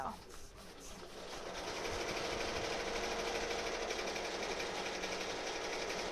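A home embroidery machine stitches designs during a beginner in-the-hoop lesson, its steady rapid mechanical whirring running continuously and close after a brief softer start, with faint talk underneath.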